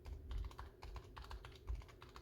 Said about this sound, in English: So overall, a pretty solid sounding keyboard, especially in terms of comparing this to other Razer keyboards specifically.